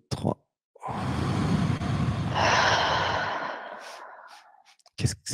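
One long, loud breath taken and slowly released during a breathing exercise, close to the ear, trailing off quietly, with brief vocal sounds just before and after.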